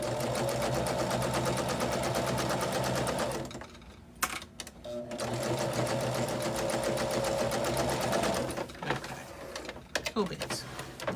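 A sewing machine runs steadily while chain piecing quilted table runner pieces, with a brief pause in the middle and short stops near the end.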